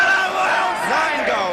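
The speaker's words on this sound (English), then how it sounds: "And as the crowd celebrates" Football crowd at a 1977/78 Division match between Spurs and Bristol Rovers cheering and roaring after a goal, a loud, sustained wash of voices with whoops and shouts rising above the din, close and continuous throughout.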